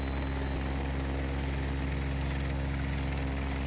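Bell 412 helicopter in X-Plane 11 flight, a steady, loud rotor and turbine drone with a constant low throb and whine, unbroken throughout.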